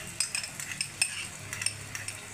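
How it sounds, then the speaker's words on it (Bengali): Whipped yogurt going into a pan of cooking mutton keema, heard as soft clinks and scraping of a spoon against the pot over a faint low sizzle, with close, irregular stirring taps and no talking. "এই ফেটানো দইটা আমি দিয়ে দিলাম।"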